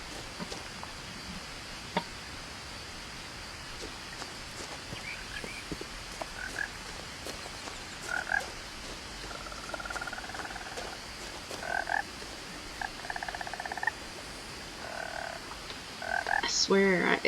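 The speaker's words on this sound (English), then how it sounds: "I swear, it's like the frog is in the room with me." Frogs croaking in a story-driven video game, a string of short nasal croaks and chirps repeating irregularly over a hushed nighttime ambience, close and fairly prominent, with no talking.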